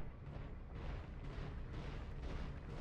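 Mech weapons firing in the BattleTech video game, with a dense, continuous barrage of booming blasts and rumbling impacts held at steady loudness for the whole stretch, no voices.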